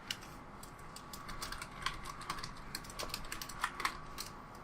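Rapid, uneven clatter of fingers typing on a computer keyboard, close and fairly quiet, with a few sharper key strikes and no voices.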